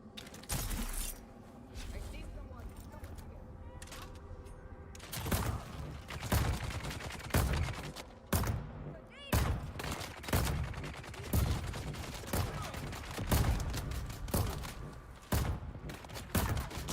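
An automated turret in the video game Dune Awakening fires repeated sharp bursts of gunfire in irregular clusters, loud, snapping shots with a clattering, machine-gun quality, mixed with some background game noise.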